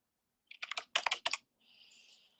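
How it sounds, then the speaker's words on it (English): Fingers tap a computer keyboard in a quick burst of about eight distinct clicks, close and crisp, then a faint high hiss follows, with no talking. "I'm kind of touching my keyboard so it shows that I'm still working."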